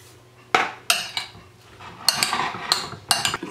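Mango cabbage salad tossed in a bowl with utensils gives a series of close, sharp clinks and scrapes in uneven bursts, some spaced apart and others clustered, over a quiet background.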